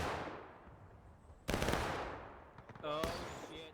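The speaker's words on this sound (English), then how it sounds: "Heavy fire coming in." Musket volleys crack out in the Civil War video game War of Rights, loud sharp bursts of massed gunfire with ragged follow-up shots and echoing tails, one near volley after a quieter stretch.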